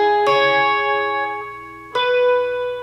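Electric guitar with the top three strings barred at the 9th fret, plucked notes ringing out clearly with a bright, effected tone and a second pluck well after the first.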